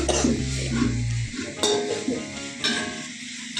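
A metal spoon stirs biryani in a large cooking pot, with scraping and clinks in uneven strokes amid sizzling and kitchen clatter, close and moderately loud.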